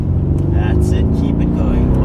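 A Mercedes-AMG accelerates out of a corner at Zwartkops Raceway, its engine a steady, loud droning roar throughout, with a voice coaching over it.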